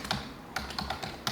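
Several separate keystrokes on a computer keyboard, with three or four sharp, close clicks spaced irregularly and no voices.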